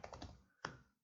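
Someone types a formula into an Excel spreadsheet on a computer keyboard, with a quick cluster of soft key taps followed by one sharper, louder keystroke, close and faint in a quiet room.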